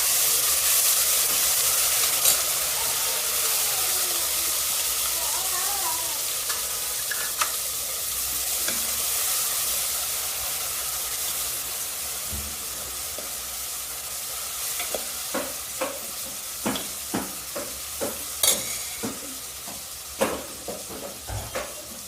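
Garlic paste sizzles and fries in a pan of hot oil with cumin, turmeric, asafoetida and red chilli, with steady close frying hiss and several sharp stirring clacks toward the end.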